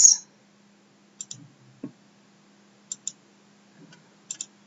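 A computer mouse double-clicks several times, each crisp pair of clicks standing alone against near silence, with a few softer single clicks between the pairs.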